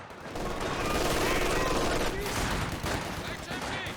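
Sustained, dense machine gun fire from the strategy game Company of Heroes 2, loud and continuous bursts running the whole time amid other battle sounds, with faint game voice chatter beneath.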